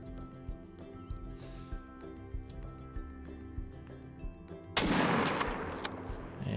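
A long-distance rifle shot during a hunt, fired after a stretch of quiet outdoor ambience, a single loud broadband blast followed by a rolling echo and rustle.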